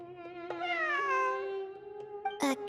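A cat in Genshin Impact meows near and clearly in one long drawn-out call that bends downward, followed by short clicks and a brief noisy burst near the end, with no speech.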